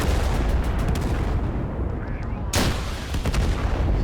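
Artillery fire in the game Total Conflict: Resistance, with dense rumbling booms and a sharp loud blast partway through over steady battle noise.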